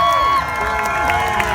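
A crowd at an Alaska pig race cheers loudly for one of the racing pigs, a dense, sustained wash of shouting and whooping voices with no pause.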